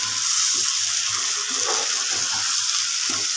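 Water pours steadily into a cooking mixture, a continuous broad hiss with soft low splashing and no voices.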